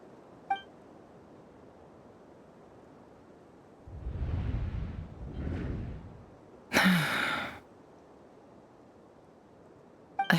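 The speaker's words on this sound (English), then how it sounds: "I heard Yehuda gasp" A woman gasps at the sight of blood in a video game, with two soft breathy bursts followed by a sharper gasp, each brief and fairly close, separated by near silence.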